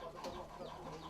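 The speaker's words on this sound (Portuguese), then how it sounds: "Este é considerado o maior galo do Brasil." A very large three-year-old rooster, bred on a farm in Goiás, Brazil, clucks faintly and continuously, with low, muffled, rough calls that carry no clear crow.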